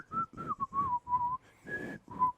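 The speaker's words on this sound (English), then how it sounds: "It's hard to whistle into a mic." A person whistles a short, wavering tune into a microphone, several breathy notes with small gaps, close and fairly quiet with no talking.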